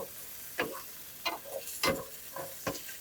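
Garlic and anchovies sizzle in a hot pan, with a soft frying hiss punctuated by five sharp crackling spits at irregular intervals, close and fairly loud, no talk.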